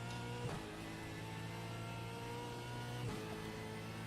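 A V8 Supercar engine in the iRacing sim at Belle Isle revs hard on throttle, a loud, sustained buzzing drone with two quick dips where the revs drop and climb again, and no talk over it.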